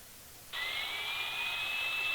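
A Yorek VK-901 AM/FM/SW radio tuned to 12 megahertz suddenly breaks into shortwave interference: a steady, shrill, whining buzz with a thin tone that drifts slowly upward, moderately loud and continuous after a quiet start.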